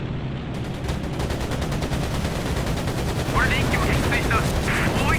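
Machine gun fire strikes at a player's plane in Air Conflicts: Pacific Carriers, heard as continuous rapid bursts of gunfire over a steady engine roar, loud and close.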